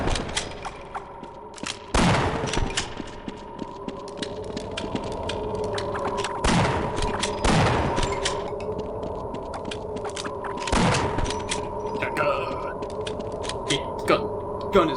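Gunfire from a weapon in the video game Half-Life: Blue Shift, several sharp loud shots at uneven intervals with ringing tails, over a steady droning game ambience.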